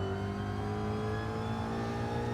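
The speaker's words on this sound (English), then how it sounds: "We're revving this thing high." In Gran Turismo 7, the Alpine Vision GT race car holds its engine at high revs around Kyoto Park. The tone is loud, steady and buzzing, without a break.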